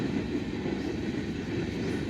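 A passing train hauling mostly empty railway wagons gives a faint, continuous rolling rumble with no break and no voices.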